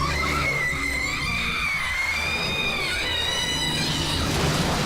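A long, piercing scream from an episode of the 2003 Teenage Mutant Ninja Turtles cartoon, a sustained wavering cry that runs for several seconds, loud and close over a dense, noisy soundtrack.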